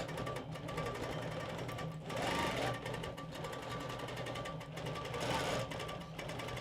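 An embroidery machine stitches out a quilt block with a fast, steady mechanical chatter of needle strikes, a rhythmic whirring hum that surges slightly every couple of seconds, moderately quiet with faint voices in the background.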